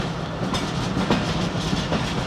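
A moving passenger train in Pakistan rolls along the tracks, giving a steady loud rumble with rhythmic clickety-clack from the wheels over rail joints, heard from on board without pause.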